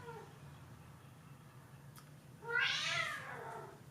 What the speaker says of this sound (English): my cats are going wild.